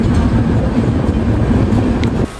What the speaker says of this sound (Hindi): और कोई तो दूसरी ट्रेन भाई सामने देखो यहाँ पे एंटर हो रही है।